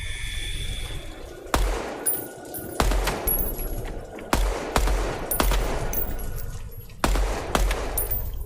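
Bursts of rapid automatic gunfire from a first-person shooter game, Project Moon, come in about five sharp, loud volleys a second or so apart, each trailing off with an echoing decay and no talking.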